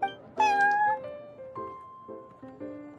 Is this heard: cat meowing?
yes